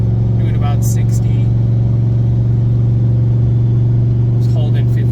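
A Factory Five XTF truck engine cruising in tow mode around 60 in fifth gear with a trailer, giving a steady loud low drone and rumble throughout while someone talks over it.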